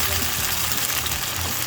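Smoked fish (tinapa) sautéing in a pan gives a steady, dense sizzle that stays close and constant, with low background rumble.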